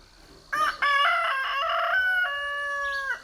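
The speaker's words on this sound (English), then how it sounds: "these guys just don't know when to be quiet. That's all they do is just crow" Roosters crow near and loud on a homestead, several overlapping calls in quick succession, each long drawn-out crow rising and holding before cutting off, with no talk.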